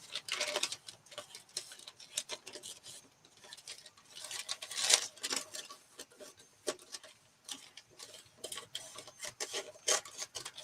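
A craft piece being trimmed along a marked edge, giving quiet, close rasping and scraping strokes in irregular bursts with brief pauses between them.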